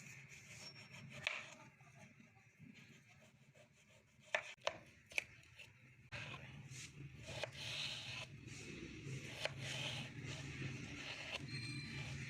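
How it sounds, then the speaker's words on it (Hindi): A knife chops peeled potatoes into small pieces on a board. The steady, fairly soft cutting runs throughout, with a few sharper knocks in the middle. "तो अब हम इसके छोटे छोटे पीसेस कर देंगे।"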